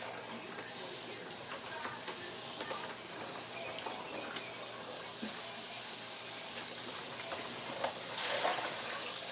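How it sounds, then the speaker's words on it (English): Tap water runs steadily into a sink while raw ribs are rinsed, a continuous hissing splash that swells near the end, with faint handling noises. "We're gonna rinse this thing off."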